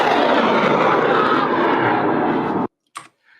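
A student rocket launch in the Mojave Desert roars in a loud, steady broadband blast for over two seconds, then cuts off abruptly, followed by a few brief faint knocks.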